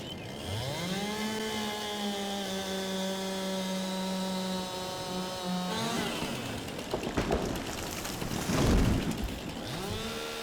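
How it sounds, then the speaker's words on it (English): Chainsaw in Farm Sim 22 cutting limbs off a spruce tree, a steady loud engine whine for about six seconds, then a rougher burst of cutting with thumps and clatter. "you got to get that blade just right with a chainsaw to get rid of those limbs, don't you?"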